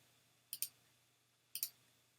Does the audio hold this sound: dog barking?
no